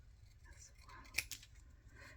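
Scissors cut through paper for a junk journal, giving one or two crisp, quiet snips up close against a soft room background.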